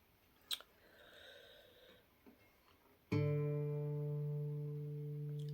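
A few quiet scraping sounds, then a single plucked guitar note, D on the 5th fret, rings out clearly and sustains, slowly fading.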